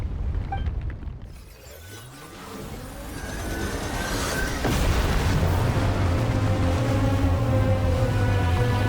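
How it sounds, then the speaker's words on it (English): A deep ground-shaking rumble in Genshin Impact, a loud, swelling low roar with grinding, sweeping tones, building and sustaining for several seconds with no voices over it. "The ground, it's shaking."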